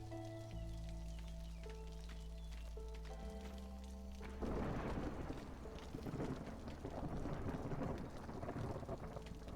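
A video game thunderstorm rolls in with steady rain hiss and low rumbling thunder that swells midway and persists, layered over soft sustained tonal game music, with no voices.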